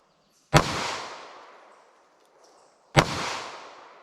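Two sharp, loud reports from Federal Punch .22 LR flat-nose rounds, spaced a few seconds apart, each with a quick crack and a lingering outdoor echo tail, no voices between them.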